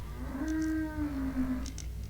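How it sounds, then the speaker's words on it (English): Cow in Wurm Unlimited giving a single long, low, drawn-out moo lasting nearly two seconds, wavering slightly in pitch over a steady game ambience with faint high ticks. "This has been a cow."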